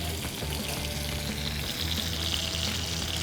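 Chicken curry, country-style natu kodi, frying and sizzling in a pot on a wood-fired stove, a steady loud crackle of oil with faint scraping as it is stirred, continuous throughout with no talk.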